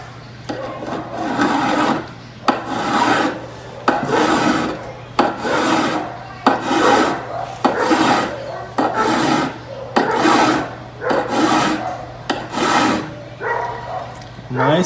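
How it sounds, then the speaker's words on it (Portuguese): A hand file lightly strokes a pair of pliers in a steady rhythm of about ten rasping passes, each a short gritty scrape with brief pauses between, close and clear, with no voices. "Sempre lembrando, passa a lima de leve, não põe força."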